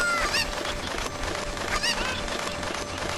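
Cuckoo chickens in the video game Ocarina of Time squawk in two sharp honking calls about a second and a half apart, over a steady hum of game sound, with no talk.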